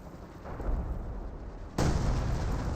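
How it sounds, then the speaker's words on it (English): Artillery barrage in a Company of Heroes 2 multiplayer match, rumbling booms that swell and then hit harder with a sudden louder blast, heavy low-end explosions layered over battlefield din. "Looks like Magenta's trying to barrage Yellow's base now."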